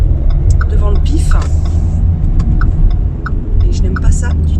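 A road vehicle, likely a bus, rumbles past close by in a steady low drone, with a few light clicks and faint higher sounds over it.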